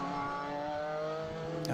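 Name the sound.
BMW Solution F race car engine passing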